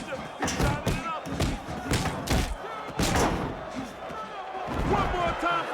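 Punches land in a movie fight scene as a quick series of heavy thuds and slams in uneven bursts, mixed with crowd noise and voices talking over the blows.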